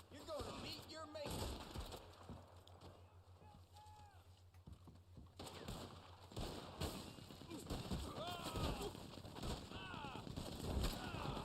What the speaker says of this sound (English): that machine gun